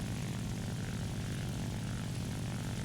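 The J2M4 Kai propeller fighter in War Thunder drones steadily, a continuous low engine roar with a throbbing propeller beat, even in level and uninterrupted throughout.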